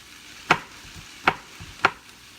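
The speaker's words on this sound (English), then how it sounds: "So I'm just chopping these into little small pieces." Knife chopping food into small pieces for meal prep, three sharp, separate cuts against a board, spaced unevenly, close and clear over a quiet background.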